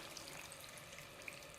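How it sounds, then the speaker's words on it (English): Water pours into a pot of chopped tomatoes, a steady faint splashing wash with a few small bubbling pops, close and alone. "fill this pot up. It's 390 grams with water."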